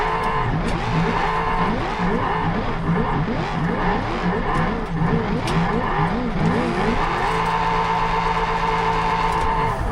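A van drifting in the driving game BeamNG, its tires squealing in wavering, repeated screeches over a constant engine roar, close and loud, settling into a steadier high engine note near the end.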